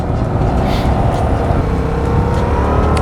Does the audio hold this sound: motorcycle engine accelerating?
yes